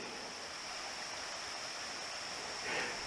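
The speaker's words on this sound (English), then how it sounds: "There's the Jordan River right there coming down off the side of the mountain" The Jordan River, a mountain stream in Shenandoah National Park, rushes down a mountainside in a steady, even broadband hiss of flowing water that swells slightly near the end, with no voices.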